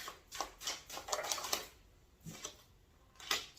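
Osho Zen tarot cards being shuffled in quick riffling bursts, close and fairly soft, with a short pause before two more riffles.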